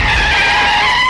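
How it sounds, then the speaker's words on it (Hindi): A car braking hard with tires skidding and squealing on the road, a loud, sustained screech held steady for about a second with no voices. "उसने तेजी से ब्रेक मारा"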